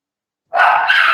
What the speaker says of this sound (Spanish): Los perritos ladran mucho